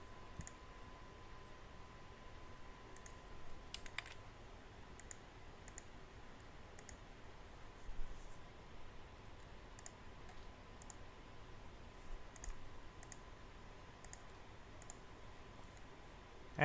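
Repeated mouse clicks and light keyboard taps while adding WordPress blog posts, sparse and close, over a steady low background hiss.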